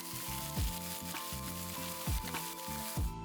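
Onions searing in a dry pan with no fat give a steady sizzle and crackle, with a few sharp scraping or knocking accents as they are moved, close and continuous.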